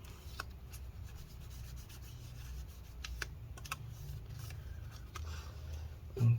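Corrosion on HP EliteBook 1030 G1 laptop parts being rubbed and scrubbed with rubbing alcohol, giving steady close-up friction with scattered light ticks and scrapes throughout.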